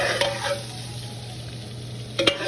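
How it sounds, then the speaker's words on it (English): Flour frying in oil in a pot as a roux is started for Salisbury steak gravy, with a steady low sizzle and a couple of brief stirring scrapes near the start and end; no voices. "And then we're going to add the flour to the pot and do our roux."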